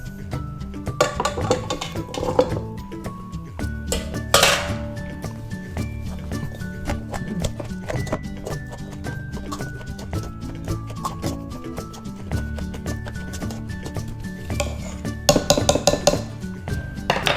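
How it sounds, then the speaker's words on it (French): Cauliflower being pressed into a purée in a home kitchen, with clinks and scrapes of utensils against dishes and pans, irregular clattering bursts over a quiet background. "On va maintenant presser nos choux-fleurs en purée."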